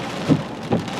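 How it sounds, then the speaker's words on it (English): Rain during Hurricane Idalia hisses steadily as a close wash of noise, with two brief heavier gusts or thuds rising out of it in a short moment. "It's a little rainy, a little windy."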